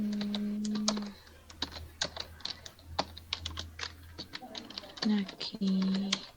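Computer keyboard keys clatter in irregular bursts as a person's name is typed into a database form, with a voice talking over the tapping.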